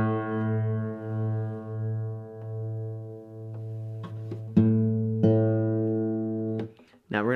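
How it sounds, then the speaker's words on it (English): Guitar with strings out of tune: the low E fretted at the fifth fret pulses in a wavering, beating tone, then the open A joins, two slightly mismatched pitches plucked and ringing, followed by a few sharper plucks and string noise near the end. "Now the low E played at the fifth fret is the same as an open A."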